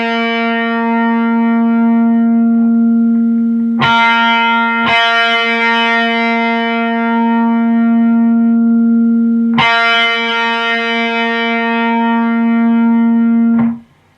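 A single sustained high-gain distorted electric guitar note at the 3rd fret of the G string, picked repeatedly, ringing loud and steady between a few sharp re-attacks before cutting off.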